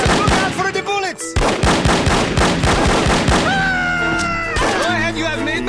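Gunfire in the spy shooter game No One Lives Forever, loud and relentless, with sharp shot bursts over game music and effects.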